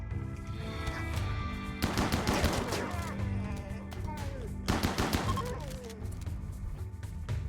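Gunfire in the video game Rimworld, two clusters of rapid shots crackling over a steady background music bed, fairly close and moderately loud.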